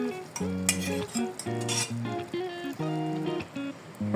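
Knife and fork clink and scrape against a dish as cooked meat for an okra tagine is cut, giving several bright metallic rings in short bursts, close and fairly quiet, with no voices.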